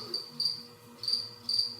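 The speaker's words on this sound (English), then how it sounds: "Literally crickets in here right now." A single cricket chirps in short, high, regular trills, four bursts in under two seconds, fairly close over a quiet indoor background.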